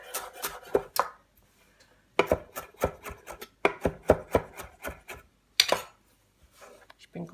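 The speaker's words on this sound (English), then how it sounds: "Now parsley they won't eat like this. So it needs to be chopped up." Knife chopping parsley on a board for chickens, in bursts of quick, close, crisp thuds with brief pauses between runs.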